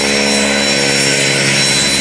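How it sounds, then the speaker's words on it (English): A local fighter-type plane passing overhead, a loud continuous roaring engine drone with steady tonal whine, close and uninterrupted throughout. "Now here's one of our local planes. Looks like a fighter type plane, a good looking plane."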